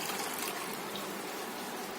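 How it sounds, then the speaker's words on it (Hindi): Milk pours into cooked sago in a cooking pan, a short steady liquid gush and splash heard close, with no talking. "अब डालेंगे हम इसमें दूध डाल देंगे।"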